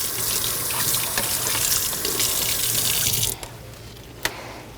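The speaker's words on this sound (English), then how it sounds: "go to your other side of the sink, rinse it with water" Tap water runs steadily into a sink to rinse a surgical instrument tube, a loud broad hiss that cuts off near the end, followed by a single light clink.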